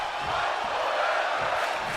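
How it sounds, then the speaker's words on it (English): A sold-out arena crowd in the WWE 2K24 wrestling video game roars and cheers in a steady, loud wash that holds from start to finish with no breaks. "This sold-out crowd is appreciative of these two men's efforts tonight."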